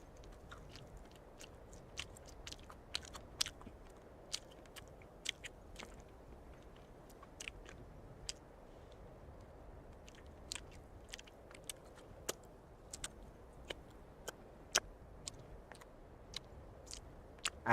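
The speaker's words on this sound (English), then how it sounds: "I hate chewing with my mouth open" Open-mouthed chewing close to a microphone makes soft wet smacks and crisp clicks at an irregular pace over a quiet background.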